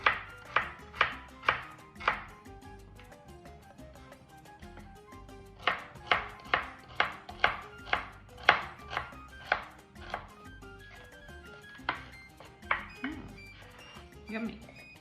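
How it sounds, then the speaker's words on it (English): A knife chops through an organic onion on a cutting board in sharp, steady strikes, two quick runs of crisp clacks separated by a pause, with speech heard in between. "So I cut the onion in half, and then what we're gonna do is cut it"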